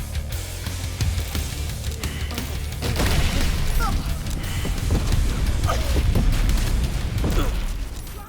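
Explosions in Baldur's Gate 3 boom out as a series of dense, rumbling low-end bursts, with sharper pops and debris crashes layered over several seconds of continuous loud battle noise.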